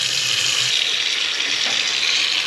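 Tap water runs steadily into a sink or basin to soak white laundry, a continuous close hiss with no voices throughout.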